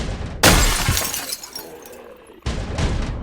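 Window glass shatters in the zombie survival game Project Zomboid: two sharp, loud crashes with bright tinkling debris, the first trailing off for about two seconds before the second hits.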